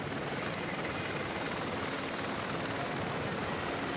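A helicopter hovers above a bicycle race in Italy, its steady rotor and engine roar forming a loud, unbroken wash of noise from start to finish.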